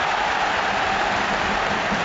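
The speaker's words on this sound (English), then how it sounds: "You heard the roar of the crowd" Football stadium crowd at a Liverpool versus Brighton match, roaring in a steady, dense wash of noise that fills the brief moment, no talking.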